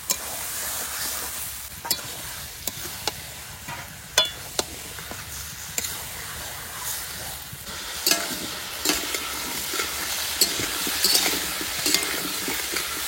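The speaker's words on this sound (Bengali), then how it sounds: "একদম সব বাটা মশলা রান্না হচ্ছে।" Goat meat fries with ground spice paste in a pan, giving a steady close sizzle broken by frequent scraping stirs and light clinks of a spatula against the pot, with no talking.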